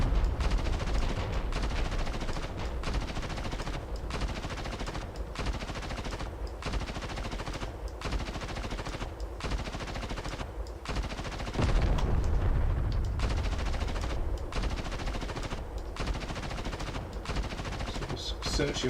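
Machine gun fire in a video game rattles in rapid, sustained bursts with short gaps between them, loud and close, with a heavier thump partway through.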